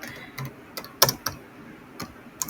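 Close, quiet computer keyboard typing while writing C++ code, irregular key clicks with one sharper clack, sparse taps spread over a couple of seconds.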